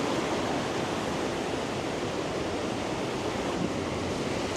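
A brook flows beside a country path in Andorra, giving a steady, full rushing wash of water that holds constant throughout without pauses or talk.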